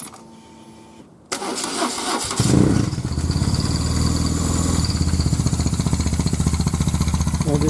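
A BMW R1100GS motorcycle fitted with a stainless steel muffler starts up after a brief quiet moment, then settles into a loud, steady boxer-engine idle with a pulsing, throbbing rhythm close by.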